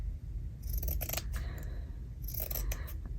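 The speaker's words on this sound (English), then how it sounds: "I'm just going to snip that off" Scissors cut through a scrap of fabric in two quick bursts of crisp snipping, close and fairly quiet against a low background hum.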